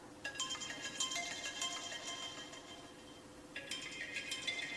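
An iPhone 7 frozen in Sprite plays a ringtone, a muffled melodic chime that repeats as a phrase and restarts partway through, faint and dull, with no voices.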